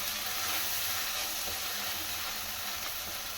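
Ground masala stirred into a mutton curry cooking in a pot, giving a steady close sizzle and hiss with faint scraping, no voices over it.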